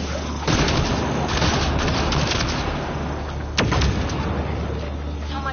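Turret fire in the video game Mass Effect Andromeda: steady rumbling barrage of booming shots with two sharper blasts, loud and continuous over dense noise.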